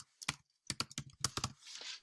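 Keys clack on a computer keyboard in short bursts of quick typing, close and crisp, with brief pauses between clusters of strokes.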